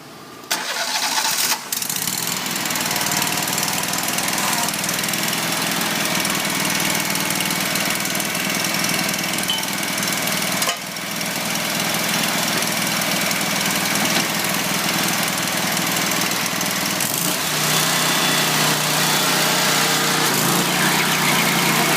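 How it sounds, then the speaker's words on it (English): A Vermeer 3940 stump grinder engine cranks up and settles into a loud, steady running roar that continues without pause, with no one talking. "crank it up and check the blade, make sure everything's turning"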